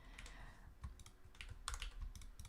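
Quick bursts of clicking keystrokes on a new computer keyboard, close and fairly quiet, in short irregular runs with small pauses between them.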